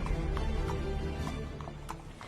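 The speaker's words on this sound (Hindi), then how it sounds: "मीरजादा ने अपने घोड़े को रोका।" Horse hooves clip-clop at a slowing pace as a rider brings his horse to a halt, several distinct hoofbeats ringing out over a steady low rumble with no voices.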